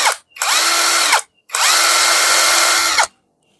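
A Monake 48S 330 Nm cordless impact wrench runs in loosening mode in three loud, close bursts: a quick blip, a whirring run of under a second, then a longer whine that spins up and winds down.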